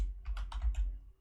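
Several quick keystrokes on a computer keyboard, close and soft, in a short even run of about four clicks with no voices.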